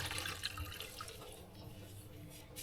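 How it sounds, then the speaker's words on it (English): Fuel dripping and trickling as a Honda CRF230 foam air filter is squeezed out over a container, a soft, irregular patter of drips and splashes close by, fairly quiet, with no voices. "Dip it into the fuel, and then just squeeze it out"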